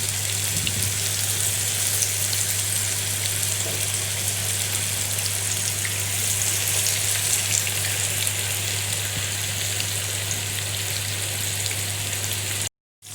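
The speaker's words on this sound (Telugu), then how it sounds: "ఆయిల్ వేసుకున్నాను అండ్ ఫిషెస్ వేద్దాం మనము" Fish pieces fry in a generous pool of hot oil, giving a loud, steady, rain-like sizzle and crackle that runs unbroken throughout before cutting off abruptly at the end.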